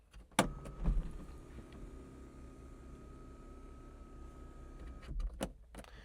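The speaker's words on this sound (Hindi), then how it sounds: "अब अपन आते हैं इस गाड़ी के सनरूफ की तरफ। तो इसको ओपन करता हूँ।" Electric sunroof on a Honda Elevate ADV Edition opening, a steady low motor hum running for several seconds between soft clicks or thumps at start and finish, close and moderately loud.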